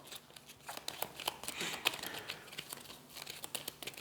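Cards for the cooperative deck-building game Aeon's End are shuffled by hand on a table, giving quiet, irregular crinkly flicks and rustles close to the listener with no talking.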